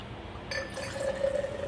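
Champagne Brut pouring into a glass, a rising liquid gush with fizzing and a faint ringing tone, close by and brief.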